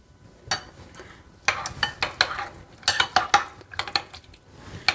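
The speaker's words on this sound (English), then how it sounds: "We are going to add cubes of cucumber which I have earlier taken." Cubes of cucumber tumble into a bowl for a makhana snack, with a string of sharp clinks and clattering taps of a spoon against the dish in irregular bursts.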